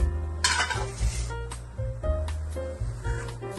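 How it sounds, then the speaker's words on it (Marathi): Star gooseberries drop into a hot pan for murabba, bringing a sharp hiss and crackle, along with repeated clanks of a utensil stirring against the pan in an uneven rhythm close by. "आता हे गरम झालं याच्यात काही टाकायचं नाही हे आवळ्या टाकून द्यायचे"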